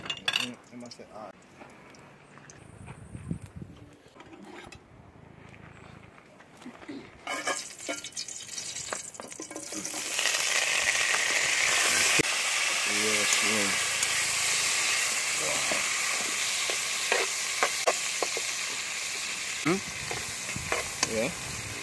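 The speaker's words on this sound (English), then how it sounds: "We got some oil getting hot." Oil heating in a pot over an outdoor wood fire in Jamaica, starting quiet with scattered clinks and then rising to a steady loud sizzle with crackles and stirring, as people talk nearby.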